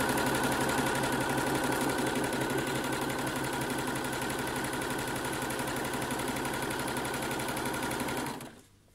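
A domestic sewing machine stitches the long side of a buttonhole in a steady, rapid mechanical rhythm, running loud and close throughout before stopping abruptly near the end.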